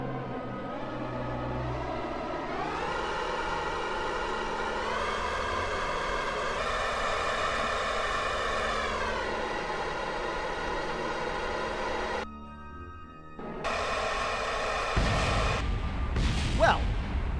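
A spacecraft engine burns in the Kerbal Space Program video game during a Duna landing, a steady loud roaring rumble with rising harmonic whine that cuts out briefly near the end, then returns with crackling bursts.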